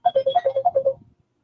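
A phone ringtone signals an incoming call on a live talk broadcast: a quick run of about nine bright, evenly spaced electronic beeps alternating between two pitches, ending within a second.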